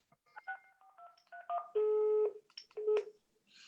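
A telephone keypad dialing a number: a quick series of distinct touch-tone beeps, with two longer held tones near the end, close and clear with no talking.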